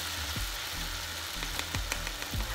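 Codfish fritter batter (bacalaito) laid into hot oil, frying with a steady broadband sizzle and a few soft thumps and bubbling pops close by, no talk over it.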